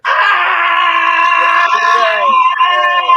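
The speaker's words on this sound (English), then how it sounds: "if you've been wanting to scream for a long time and you just scream" A person screams loudly and continuously, a sustained strained vocal cry held for about three seconds without a break, close and alone, in a setting of drumming and dancing.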